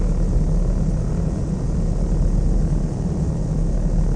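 Steady, loud drone of a light aircraft engine from the Flight Sim World game, a continuous low rumble holding even for the whole stretch with no voices over it.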